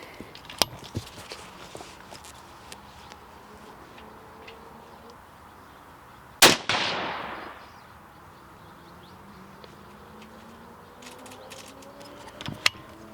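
A single sharp rifle report rings out while a GPO scope is being sighted in at a shooting range, followed by a long decaying echo, with faint distant pops and bird chirps around it.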